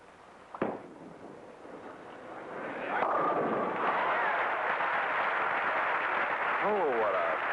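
A bowling ball strikes the pins at the 1972 PBA King Louie Open: a sharp crack of impact followed by a swelling, sustained crowd roar that fills the hall to the end.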